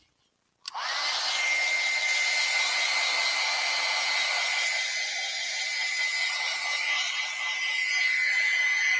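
A hair dryer switches on after a brief silence and blows steadily and loudly, a constant whine and airy roar drying wet acrylic paint on a painting of a garden cat.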